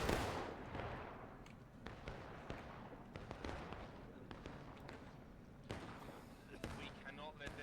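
Infantry musket volleys in a historical-rules video game battle with artillery nearby, heard as a dense crackle of scattered shots near and far, with bursts of repeated pops and a few louder reports.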